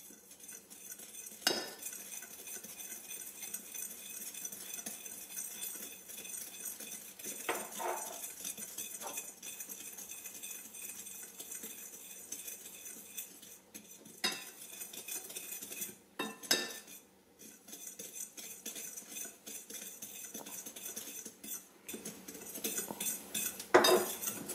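A fork mixes a homemade toilet-tablet preparation in a bowl, giving intermittent metallic clinks and scrapes against the sides, fairly quiet and close, spread across a long stretch with brief pauses.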